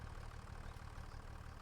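A tractor engine idles in a farming game, a steady low rhythmic chugging hum that is faint and unbroken, with no voices.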